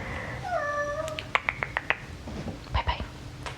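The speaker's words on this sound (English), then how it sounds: "Not sure why he's meowing so much." A house cat meows a few times in a short rising-and-falling run, close and clear, followed by soft tapping and rustling in a quiet indoor room.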